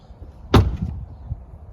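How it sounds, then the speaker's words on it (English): A Tesla Model 3 car door with an upgraded seal shuts once with a solid, muffled thump, close and fairly loud, followed by a brief dull settle with no talking. "So when I shut the door"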